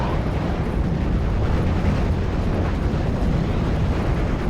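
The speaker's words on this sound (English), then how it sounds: "If I can get some rocket artillery on top of this Honey Stuart, that would be a good idea." Rocket artillery slams onto an M5 Stuart 'Honey' tank in a Steel Division: Normandy 44 battle, a dense, sustained roaring rumble of blasts that stays loud and unbroken throughout.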